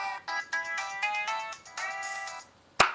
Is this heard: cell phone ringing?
yes